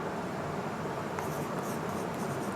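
A heading is written by hand during a Class XII chemistry lesson on the solid state, probably chalk or pen on a board or page. It makes a steady, continuous scratchy scrawl at close range with no talk.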